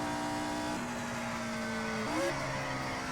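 Race car engine in the Indianapolis 500 Evolution video game, 1964 Milwaukee 100 event, droning steadily and then shifting pitch as it drops down a gear, loud and continuous with no talk over it.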